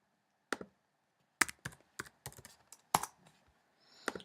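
Scattered clicks and short bursts of computer keyboard typing with mouse clicks during a Lego building project on a computer, crisp and close against near silence, arriving in irregular clusters.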